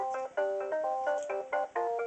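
A mobile phone ringtone plays a repeating melodic electronic tune in short bursts with brief gaps between phrases, fairly close and clear, with no talk over it during a break from cleaning a 740 firearm.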